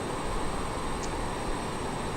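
A TBM turboprop engine in a flight simulator game hums as a steady, even broadband drone with no breaks.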